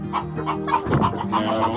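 Chickens, including cream legbar hens, cluck repeatedly inside a large coop, with several overlapping close, busy calls that continue throughout.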